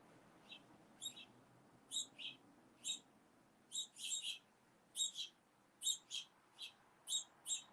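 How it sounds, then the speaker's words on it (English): Bird chirping indoors in a house: a dozen or so short, high twittering chirps, some doubled, repeating at irregular intervals of roughly half a second to a second, fairly faint and alone over a quiet room hum. "Is there a bird in my house?"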